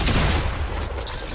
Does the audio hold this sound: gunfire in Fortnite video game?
yes